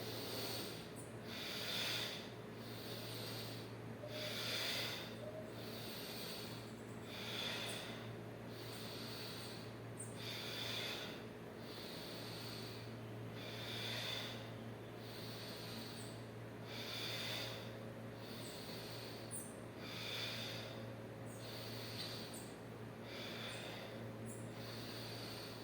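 A dancer breathes in and out during a contemporary dance exercise, with slow, regular audible breaths repeating roughly every two to three seconds, close and soft over a low steady hum.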